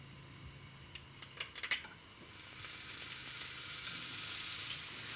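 Butter sizzling in a hot frying pan, a few light clinks and taps first, then a steady hiss that swells and holds, close but fairly quiet.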